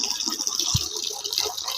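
Water pouring from a solar water heater, a steady hissing splash with a faint dull knock partway through, close and continuous for under two seconds.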